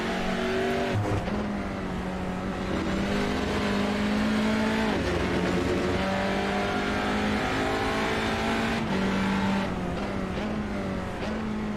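Tin-top touring race cars lap a track on a Wednesday night, their engines roaring continuously with rising and falling revs as several cars pass, loud and close throughout.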